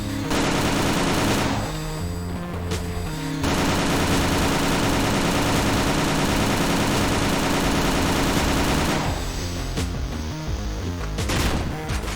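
Spin-up gun firing continuously in the shooter game Perilous Warp, a dense, loud, rattling stream of rapid shots that runs nearly unbroken with brief dips and shifts in tone, no talking.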